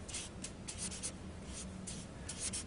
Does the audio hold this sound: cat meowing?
no